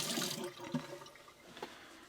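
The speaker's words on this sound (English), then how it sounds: "So let's wash this off my hands." Hands washed under a running tap, a soft hiss and splash of water close by, unsteady and fairly quiet for a couple of seconds with no talk.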